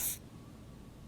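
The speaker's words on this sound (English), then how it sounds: "He dusts you with the odd-smelling spray" A short burst of pheromone spray hisses from an aerosol in the game Disco Elysium, one sharp spritz lasting a split second, then fading into quiet background hum.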